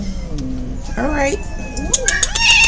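A feral cat, aggravated and ready to attack, lets out rising, drawn-out yowls that grow louder toward the end, close and loud, with a person briefly speaking in between.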